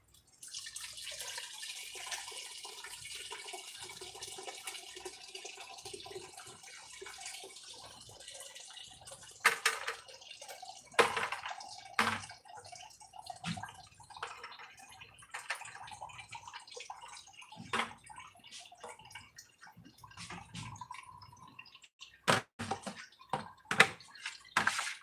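Grape juice pouring and splashing into a wine cask, a faint trickling stream with scattered drips and sharper splashes later, fairly quiet and close.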